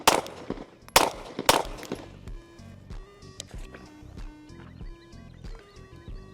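Sharp gunshot cracks from a Glock 19X pistol fired in competition shooting, three loud reports in the first second and a half, followed by quieter clatter and background music.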